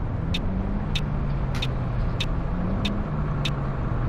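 Busy road traffic in a truck driving game, set on a route toward Rotterdam in Belgium: a steady engine drone with passing vehicles and several short, sharp hisses like air brakes spaced through it.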